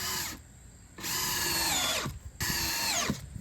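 A power drill drives 2.5-inch exterior screws into the wooden frame of a pig feeder, two loud whining bursts of motor that rise and wind down as each screw seats, close up with no talk.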